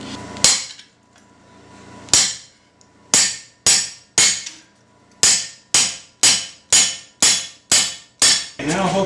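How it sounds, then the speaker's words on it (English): Hammer driving a round cylindrical punch through heated metal at a forge, about fourteen sharp ringing strikes, widely spaced at first and then in a quick steady rhythm, each ring fading fast. "we'll heat it again and then we'll go through with a punch"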